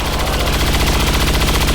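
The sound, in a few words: gunfire at a stun lancer in video game XCOM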